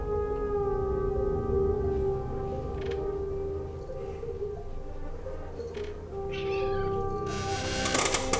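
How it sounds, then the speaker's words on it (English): A domestic cat meows under steady, droning background music, with a louder, sharper cry near the end. "Sorry, my cats arrived."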